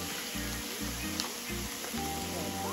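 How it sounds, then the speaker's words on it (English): Thick-cut bacon, six slices frying in a pan, giving a steady sizzle and spatter under a rhythmic low thumping pulse, with no one speaking. "So I have 6 pieces of bacon cooking."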